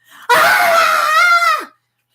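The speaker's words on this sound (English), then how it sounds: "the big fake scream" One person lets out a big fake scream, a loud, sustained shriek lasting over a second that cuts off abruptly into silence.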